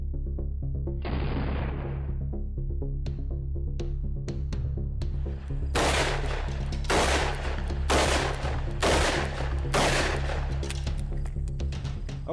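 A .357 revolver, 135-grain rounds at about 1,275 feet per second, fired at an armored Mercedes-Benz W140: a string of sharp, loud gunshots, a few spaced early shots, then a rapid run of close, evenly spaced reports.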